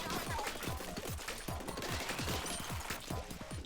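Dualies firing in Splatoon 3, a fast stream of short punchy shots repeating roughly every quarter second, loud and steady over busy game noise.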